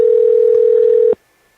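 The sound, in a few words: telephone dial tone while calling Robby Royal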